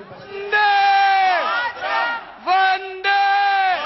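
A large crowd at an Aam Aadmi Party swearing-in ceremony roars in sustained waves of chanting and shouting, loud and close, surging in several bursts with brief dips between.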